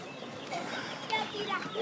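Chickens cluck in a coop, short chirpy calls scattered close by over a soft bed of background noise.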